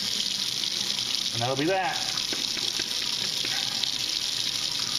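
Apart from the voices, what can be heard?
running tap water washing out a container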